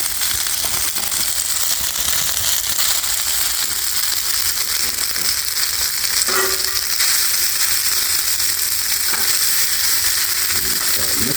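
Cabbage and pre-cooked noodles sizzle on a flat-top griddle in a continuous, dense, loud hiss, with faint scraping and stirring clatter mixed in and no talking.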